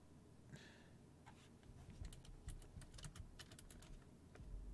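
Computer keyboard keys clatter in quick, uneven bursts of close clicks and taps during a Grand Theft Auto V roleplay session, quiet overall, with no voice.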